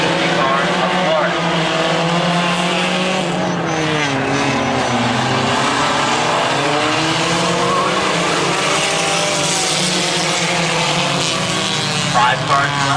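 Race cars roar around the oval at Midvale Speedway, the 83 and 50 cars battling for the lead, engines wailing loud and continuous with rising and falling pitch as they pass, under steady announcer commentary.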